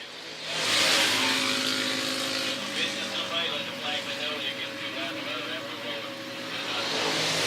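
Race cars exiting a corner at the 2019 New Year's Race in Paradise, a steady blended engine roar holding across the whole stretch at moderate distance.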